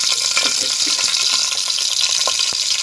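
Ajwain seeds dropped into hot oil that already holds cumin, giving a continuous bright sizzle and crackle with scattered small pops and stirring clicks, close and fairly loud with no speech.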